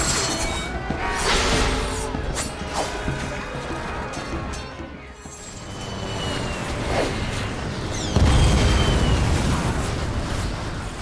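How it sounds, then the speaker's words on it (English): Explosion effects from the PlayStation 3 shooter Resistance rumble and crash continuously, with scattered sharp bursts and a heavier, booming blast late in the stretch over dense battle noise. "the explosion effects are much more impressive"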